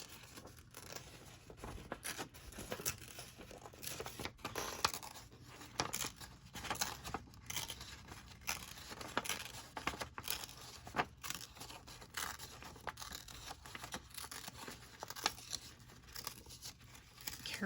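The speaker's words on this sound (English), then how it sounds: "I wonder if I can tear this out." A page torn carefully from a craft book: quiet, drawn-out ripping and paper crinkling in irregular bursts, heard close up for a long stretch.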